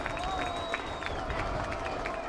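College football crowd at Langhorse Field for Elmhurst against Olivet, a steady roar of distant cheering and shouting with a thin whistle-like tone running through it, continuous and moderately loud.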